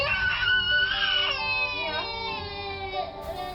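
Fourteen-month-old toddler screaming and crying at bedtime, a loud, sustained, piercing wail close by that gradually softens into sobbing.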